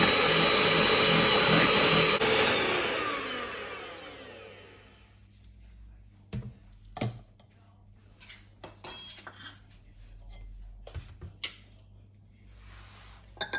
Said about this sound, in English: So let us blend it.